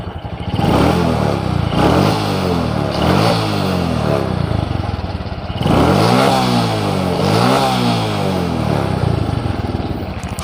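A Honda Supra X 125 motorcycle, one that lacks power and stutters on climbs, revs hard and loud while accelerating, its engine note rising and falling in repeated surges with no voices over it.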